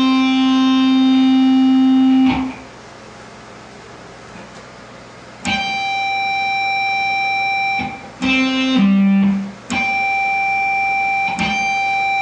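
A guitar note fretted at the 5th fret rings out cleanly in several separate plucks, each sustaining with bright overtones and decaying, with short quiet gaps between them.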